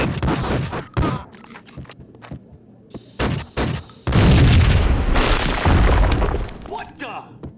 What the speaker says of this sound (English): I thought it was a bomb for sure